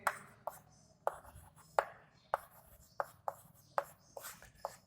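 Pen or chalk writing out an answer to a square-root problem gives a series of quiet, sharp taps and scratchy strokes, roughly a dozen in a loose rhythm, close and faint, with no talk over them.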